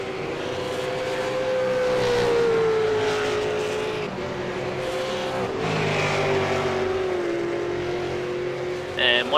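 V8 Supercar racing at Phillip Island: a Falcon's engine drones steadily with rising and falling pitch as it accelerates through gears, under continuous commentary.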